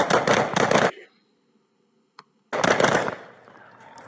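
Two bursts of rapid gunfire, each a fast string of loud, sharp cracks, split by a near-silent gap with a single faint pop, the second volley trailing into a ringing echo.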